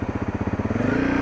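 A Honda CRF250L single-cylinder dual-sport motorcycle engine revving high at highway speed, a buzzy rapid thumping pulse that quickens and smooths into a steady drone, close and loud.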